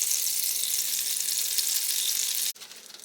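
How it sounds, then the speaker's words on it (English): About a tablespoon of butter melts in a pan with a loud, steady, close sizzle that suddenly drops and softens near the end. "Now I'm going to take me about a tablespoon of butter. Put in that pan, let it melt down."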